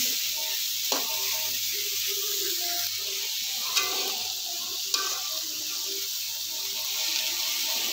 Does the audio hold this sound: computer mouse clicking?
no